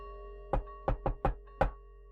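A single knock on wood, then a pause, then three quick even raps and one last louder knock, crisp and close over a low background hum.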